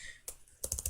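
Computer keyboard keys clack close by, one isolated tap followed by a quick burst of several rapid keystrokes.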